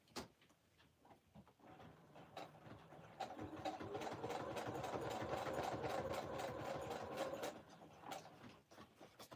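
A sewing machine stitching steadily, used for making tab clusters, a close mechanical whir with rapid rhythmic ticking that builds over a few seconds, runs evenly, then slows and stops.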